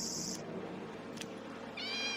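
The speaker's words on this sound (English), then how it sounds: "It's a domestic cat." A domestic cat lets out two clear meows, one short and one drawn out, separated by a faint pause, close and alone against a low steady background hum.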